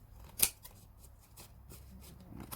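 Scissors trim excess material from a round scrapbook box, with a few short, crisp snips spaced apart in a quiet room.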